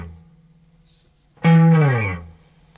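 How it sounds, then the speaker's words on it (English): Guitar on the bottom string sliding from the 12th fret down toward the end of the neck into a muted stop: one sharp pluck followed by a smooth downward glide, close and alone after a near-silent lead-in. "sliding from the 12th fret down to a mute just at the end of the neck"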